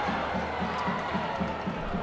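York rugby fans cheer from a distant stand after a score, a steady crowd roar heard throughout the short stretch.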